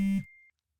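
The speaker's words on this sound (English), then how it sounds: "Really? You forgot to turn your phone off?" A phone goes off during a live show, a brief electronic tone with a short buzzy burst followed by a thin fading beep, alone in quiet.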